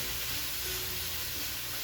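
Chicken sears in a hot pan with a steady, dense, close sizzle, a continuous hiss and fine crackle throughout, with no voices.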